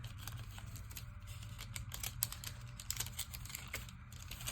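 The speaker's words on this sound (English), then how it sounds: "Let's get the washi tape down now." Soft, quick crinkles and taps of map-printed washi tape being pulled and pressed down onto a collage page, a faint irregular clicking close by with no talk.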